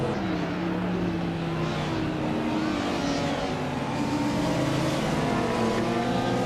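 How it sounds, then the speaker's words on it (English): A Porsche 944 Turbo races in a video game, its engine droning loudly and continuously with rising and falling pitch as it accelerates, alone with no voices. "Ectoplasm is driving a Porsche 944 Turbo and is currently in 8th place"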